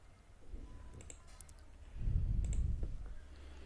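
Mouse clicks on a date-of-birth calendar in an online application form, a few quiet clicks in a small cluster, faint and close, with a low room rumble rising partway through.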